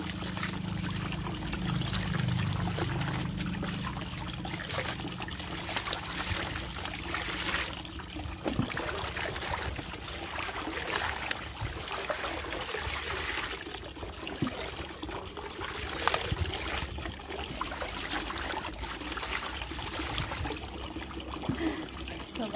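Steady water pouring and trickling continuously while laundry is rinsed a second time by hand in a rural province home, close and even throughout with light splashing and no voice.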